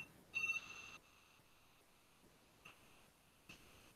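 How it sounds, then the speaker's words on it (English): A phone rings faintly during a GPU programming lecture: a short electronic ring burst near the start, then quieter chirps later, all heard alone under a low room hiss. "sorry about these phone calls"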